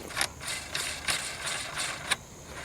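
A threaded part is screwed down onto a rifle's grenade-launcher threads, giving a steady run of close, evenly spaced metallic clicks, about two per second.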